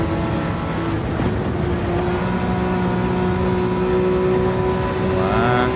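Racing car engine in Gran Turismo 7 holding a steady sustained drone as the throttle is modulated through a corner, with a rising rev toward the end and no talk.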